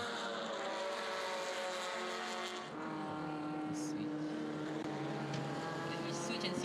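A SuperTurismo touring race car, car 88, laps the circuit alone with its engine droning loud and steady throughout. The pitch shifts slightly as it changes speed, and faint voices sit underneath.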